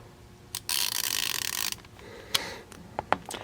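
An Icon G2 3/8-inch locking flex head ratchet turning a 14mm flex socket, a rapid buzzing run of clicks lasting about a second, then a few separate sharp clicks, close and clear.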